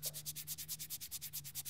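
Fingertips rub back and forth across the sandstone white textured back of a OnePlus 5T phone, giving about fifteen rhythmic, close, quiet scratchy strokes with no talk.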